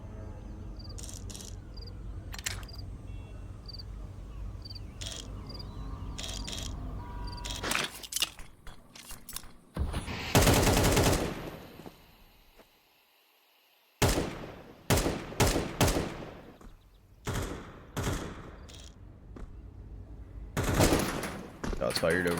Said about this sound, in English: Shots fired over towards B.